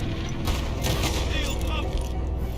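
Gunfire rings out in the Red Dead video game during a fight with a huge animal: several sharp bursts of shots come close together over a steady background rumble.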